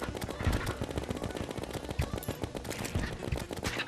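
Video-game rapid fire from an Uzi or Megashark cuts down mobs in a fast, steady stream of close, quick shots, with a few heavier thumps mixed in.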